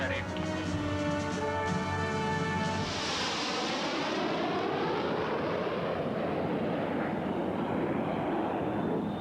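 A jet aircraft roars on a runway during takeoff, a rising tonal whine giving way to a broad, loud rushing thunder that sweeps and fades over several seconds.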